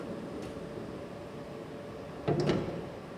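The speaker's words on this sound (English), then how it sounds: "I'm going to shut the door here so Chris can just get a flavour" Door of a CNC machine being shut, a single close thud and rattle near the end after a quiet stretch of faint background hiss.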